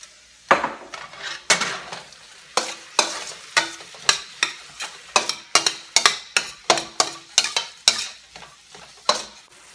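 Ground beef simmering in homemade organic bone broth is stirred in a pan, a spoon scraping and knocking the pan in a steady series of sharp clacks over a soft, constant bubbling sizzle, close and with no talking.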